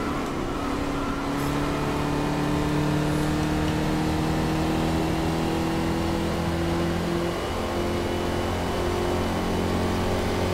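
Formula Vee historic race car engine in Game Stock Car Extreme, a steady buzzing drone holding at high revs, the pitch shifting slightly through the gears, loud and continuous with no talk.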